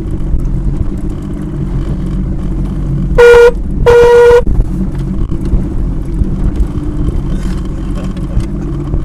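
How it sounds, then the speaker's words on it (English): A boat horn on a tour boat at Las Vegas Harbor, Lake Mead, sounds two short, fairly thin blasts a moment apart over a steady engine drone and wind. "What a weak horn, huh?"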